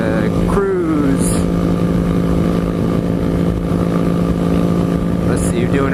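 A Suzuki GSX-R 750 cruises along a California mountain road, its engine holding a steady mid-pitched drone with a brief shift early on, loud and close under constant wind.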